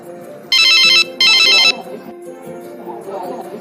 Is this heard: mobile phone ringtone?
yes